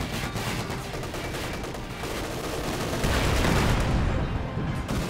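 Dense, continuous gunfire and explosions from a Company of Heroes 2 2v2 battle form a loud wall of crackling shots and rumbling blasts.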